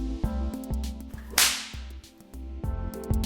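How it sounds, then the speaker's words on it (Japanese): A single-tail whip with a cracker-type tip gives one sharp, loud crack midway, over steady background music. "クラッキングタイプはこの細い紐で空気を切り裂くことによってムチのパーンという音を鳴らすことができます。"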